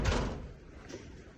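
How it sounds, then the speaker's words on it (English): A big shed door is pulled back down, making a low rolling rumble with a heavier thud at the start and a softer bump near the end. "put the door back down"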